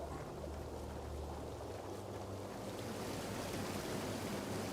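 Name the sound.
waterfall in the video game Tainted Grail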